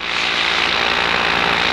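A paramotor engine idles loudly and close, a steady buzzing drone that holds even for the whole stretch with no talking over it.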